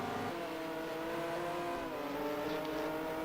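BMW race car in a racing video game roaring past at high revs during a 12-hour race, the engine note steady and droning with a slight pitch shift as it goes by.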